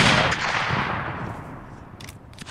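Musket volleys in Mount & Blade Napoleonic Wars, a loud opening blast decaying into a long rumbling echo, with faint scattered shots later.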